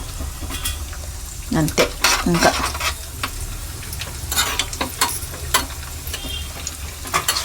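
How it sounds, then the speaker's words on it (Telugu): Cashews and raisins sizzle and fry in a pan while a spoon stirs them with repeated scraping strokes, the frying hiss steady underneath and a few brief spoken words over it. "కొంచెము మన గోల్డెన్ బ్రౌన్ వచ్చేసినాయి ఇవి చూడండి. ఇప్పుడు మనం కిస్మిస్లు కూడా వేసేసుకుందాము."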